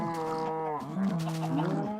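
Cows in a farm field in a video game give a long, loud, close moo that bends downward in pitch, then a second lower drawn-out lowing, with no talk over it.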